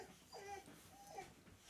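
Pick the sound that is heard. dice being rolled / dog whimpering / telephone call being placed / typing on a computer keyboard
dog whimpering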